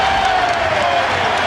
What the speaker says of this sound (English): the crowd is in a frenzy